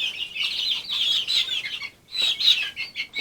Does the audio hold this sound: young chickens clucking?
yes